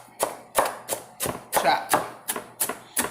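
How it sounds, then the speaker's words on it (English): A knife chops through the ends of raw turkey necks on a cutting board in nine sharp, evenly spaced thuds, close and clear with a faint hum underneath. "what you want to do is take the end, and you just want to chop"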